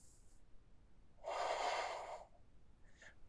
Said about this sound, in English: 5 deep breaths.